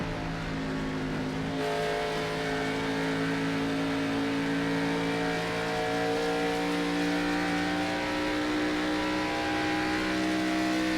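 Stock race cars charge into turn 1 at Pocono in a Gen 6 series race, engines droning loud and steady with layered harmonic whine from several cars running close together for the whole stretch.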